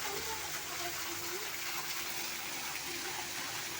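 Natural waterfall at the Patanjali wellness centre cave in Haridwar, a constant loud rushing gush of falling water with no clear pauses.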